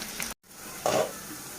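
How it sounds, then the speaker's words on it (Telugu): Sliced onions frying in the same hot oil used for dried anchovies, a steady close sizzle with a short gap and a brief louder burst as they hit the pan, alongside faint stirring. "అదే ఆయిల్లో ఆనియన్స్ని కూడా వేసి మగ్గించుకోవాలి."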